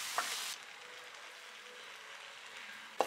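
Chopped celery is stirred into pancit canton sizzling in a pan, with a steady frying hiss throughout and a couple of brief utensil scrapes near the start and end.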